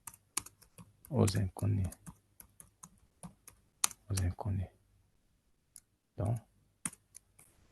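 Keys clatter in quick bursts on a computer keyboard, with a few louder presses that sound like the space bar, interleaved with someone talking quietly nearby.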